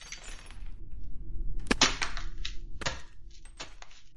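A foot slams down on a pile of twist ties to stand in for a camera being smashed, giving several sharp, bright crunching cracks with scattered rattling debris, close and loud with no voices.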